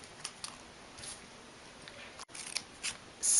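Scissors snip through paper flower petals for a handmade greeting card in a string of quiet, crisp cuts, spaced irregularly with short pauses between them and a brief break near the middle.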